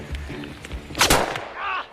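German army sniper fire in a war film: one sharp, loud rifle crack about halfway through, among a few softer thuds and some rumble.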